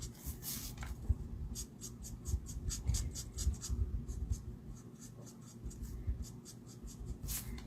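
Ink dabbed by hand onto the fold of a paper card to make a shadow, a string of small close taps and light rubbing strokes in an uneven rhythm, with no voices.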